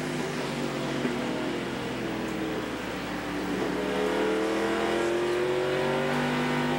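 NASCAR stock cars race at Myrtle Beach Speedway in 1995, heard from an in-car camera, with a loud, continuous engine roar that rises in pitch as the car accelerates.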